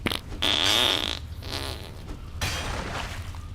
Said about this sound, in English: The obligatory fart there.